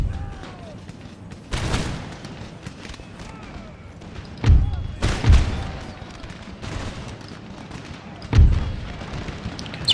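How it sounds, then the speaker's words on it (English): Artillery cannons fire during a Napoleonic-era Empire Total War (Darthmod) battle as France: four heavy booms at irregular intervals, some fairly close, over a steady rumble of battlefield noise, with a voice talking in places. "Get the artillery firing on these units that are causing us problems."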